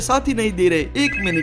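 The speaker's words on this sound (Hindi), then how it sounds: "किसी का तो फोन आ रहा है।" A phone rings in GTA V with a repeating electronic tone pattern, loud and close, while someone talks over it.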